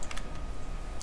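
Brief bursts of typing on a computer keyboard, a few quick clicks near the start and another at the end, close and fairly quiet over a low background hum.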